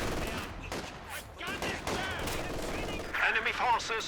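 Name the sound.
gunfire in the video game Company of Heroes 2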